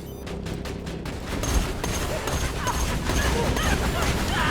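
Automatic turret gun fire in Borderlands 2 amid battle: dense, continuous crackling bursts that grow louder after the first second and keep up steadily, with other combat noise layered underneath.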